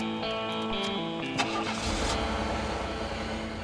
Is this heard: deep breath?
no